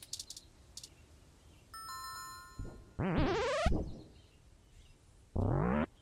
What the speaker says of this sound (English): Maybe we should ring the bell first?